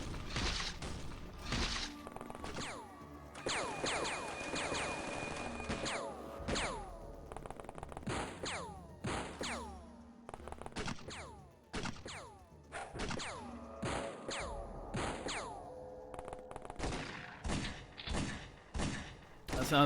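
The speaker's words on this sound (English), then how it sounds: "That sounded like a grenade, hopefully not at us." Combat in the X-Com Files video game, where a grenade explosion lands among a dense run of sharp bangs, heavy thuds and rattling gunfire-like bursts that keep coming for about twenty seconds, with no voices.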